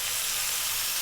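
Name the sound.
tomatoes added to frying onions and garlic, sizzling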